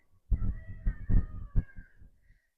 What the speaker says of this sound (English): As long as you're just meowing and purring and rubbing on my leg, we're fine.